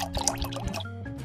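Wine is poured into a glass during a tasting, a soft, short liquid trickle and gurgle heard close and quiet.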